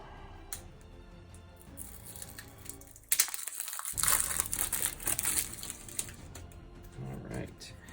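A wrapped pack of game cards being torn open, with loud plastic crinkling and crushing in a burst after a short stretch of quieter handling, someone talking at points.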